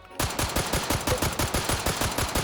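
A modified M1911-style pistol in the VR shooter H3VR fires about a dozen rapid, evenly spaced shots in a fast automatic rhythm, each a sharp, loud crack.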